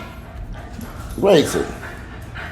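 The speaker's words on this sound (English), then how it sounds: "what is wrong with these dogs?" Dogs bark and yip indoors, with one sharp burst of barking and whimpering rising briefly over a person talking.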